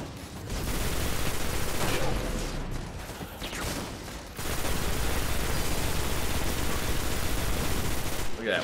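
Automatic fire from the Atheon's Epilogue weapon in the Destiny video game rattles in long, dense bursts with a brief lull in the middle, loud and continuous.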